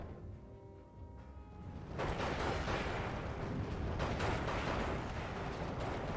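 Bomb run explosions in the World War II strategy game Steel Division 2: after a quieter rumbling stretch, a sudden loud broadband blast hits at about two seconds and becomes a sustained roar of overlapping detonations with sharper bursts layered in.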